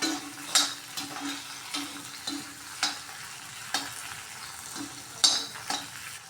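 Ingredients for an onion-stalk chutney fry in a pan with a low sizzle, broken by regular scraping stirs and sharp clinks of a spoon against the pan.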